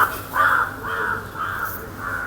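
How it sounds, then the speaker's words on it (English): A crow caws loudly and close by outdoors, three or four harsh drawn-out calls in quick succession. "That crow nearly bomb dived me there."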